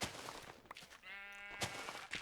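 A single sheep bleats, one clear wavering cry of about half a second, heard nearby against a noisy, rustling background.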